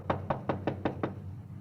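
Knocking on a front door in a radio drama, six even knocks in quick succession, close and clear over a low hum, then quiet.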